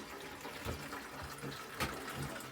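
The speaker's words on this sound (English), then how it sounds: "you can see the water pouring out" Water drains from a toilet tank into a large bucket, a soft continuous splashing and trickling pour heard up close and fairly quiet, with no talking.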